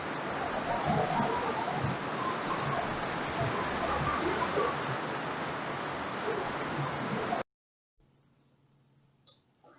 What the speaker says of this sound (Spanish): nos agarró la lluvia